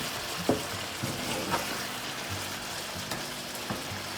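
Shrimp sizzle steadily on a barbecue, a continuous close frying hiss with a few faint pops and taps over it.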